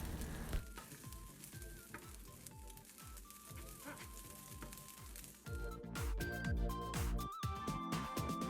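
Vegetable fried rice with scallions sizzling steadily in a hot pan as it is stirred, a dense continuous crackle with occasional scraping strokes and a brief pause midway.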